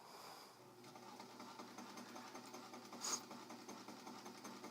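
A domestic sewing machine running a zigzag stitch, giving a faint, steady mechanical whir with a soft rhythmic patter and a brief louder clack partway through.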